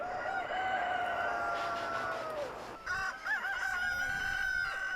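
Chickens on a free-range egg farm: a rooster's long drawn-out crow, then wavering clucks and calls from the flock, close and clear over a low outdoor hum.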